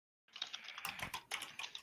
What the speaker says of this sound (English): I keep typing the wrong damn symbol